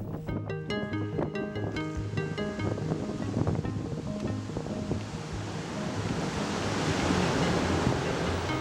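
Sea waves washing onto the west coast at Taean with wind blowing, a broad rushing wash that swells louder toward the end, while a tonal musical line plays over the first half.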